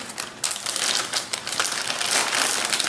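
Plastic bag of shredded casserole cheese crinkling up close, a busy run of crackly rustles and crunches lasting several seconds with no talk.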